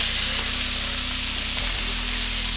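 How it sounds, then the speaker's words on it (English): Garlic added to onions frying in a pan for fried rice, giving a loud, steady, close sizzle with an even hiss throughout and a faint low hum underneath. "She likes her garlic a little more done than I do. So I'm going to put that in right here at the end"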